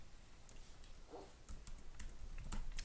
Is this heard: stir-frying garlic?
no